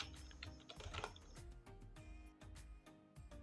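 Keys tapped at a steady pace on a computer keyboard while entering invoice data into an MS Excel spreadsheet, a run of quiet, close clicks with no voice.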